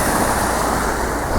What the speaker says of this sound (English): The waves are coming up so fast.